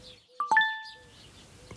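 A short electronic ding-ding notification chime for an incoming SMS text message rings out twice in quick succession, clean and bright against a quiet room.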